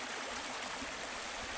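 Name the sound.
flowing full river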